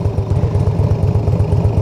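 Motorcycle engine running steadily at a low idle-like rumble, close by and continuous as the rider walks the bike upright beside it across a wide street, with no talking.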